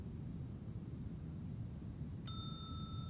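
A hotel front desk bell in the Slender Threads game gives a single sharp ding near the end, its bright tone ringing on over a steady low hiss of background noise.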